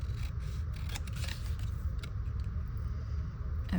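Scissors snip the white edge off a paper bellyband for a journal, a steady close cutting and scraping over a low rumble.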